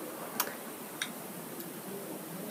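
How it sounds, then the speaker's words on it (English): Three soft, evenly spaced ticks from iOS VoiceOver in Safari mark a loading page, faint and clicky over a quiet background with no talk. "it makes that ticking noise to load"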